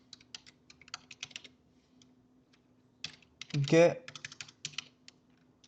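Computer keyboard typing while JavaScript code is written, quick, light key clicks in short uneven bursts, close and quiet, with a voice speaking briefly in the middle.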